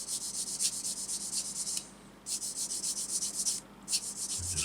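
A small sander works gently over a part from an ICM Model T ambulance kit, giving soft rhythmic rubbing strokes up close with a short pause midway, and no talk.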